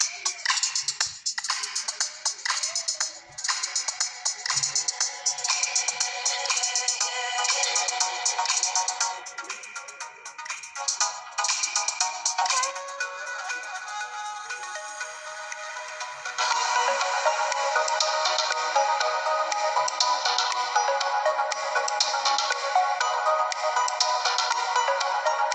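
Royalty-free music plays through the built-in loudspeaker of an Umidigi A5 Pro smartphone, sounding bright and thin with almost no bass. The track runs continuously and fairly loud, and grows fuller and denser about two-thirds of the way through.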